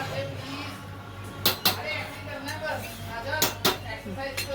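A spoon stirs cornflour into a paneer dish in a pan, knocking sharply against the metal a few times in two pairs of clinks over a steady background while someone talks.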